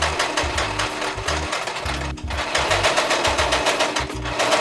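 A sewing machine stitching batting into a bag, loud rapid mechanical chatter in bursts with short pauses between runs, no voices.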